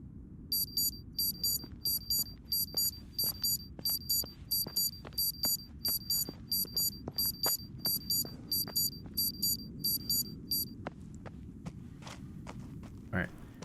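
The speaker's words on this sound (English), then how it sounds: "That was definitely an alarm just telling me that it's nighttime." A repeating electronic alarm beeps in regular short bursts, signalling nightfall in the survival horror game Pine Harbor, over a low background rumble and footsteps, with someone talking at times.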